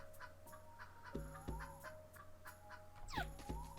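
A chicken in the game Ghostlore clucks in short repeated bursts over a quiet background hum, with a few sharp game effect sounds between the clucks.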